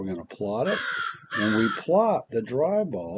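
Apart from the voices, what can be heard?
crow cawing in the background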